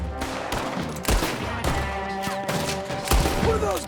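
Gunfire from the Red Dead Redemption 2 video game, a loud rapid fusillade of overlapping shots and booms that runs throughout, with a few sharper bursts standing out.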